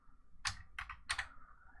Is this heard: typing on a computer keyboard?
yes